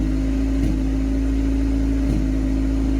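A car engine idles rich and steady, a continuous low hum with a strong constant tone, close and alone, with two brief soft bumps in the otherwise even running.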